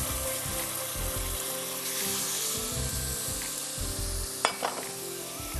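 A paste is added to onion and garlic frying in a pan, with a steady loud sizzle and scraping stir sounds up close, plus a few brief clinks, with no talking.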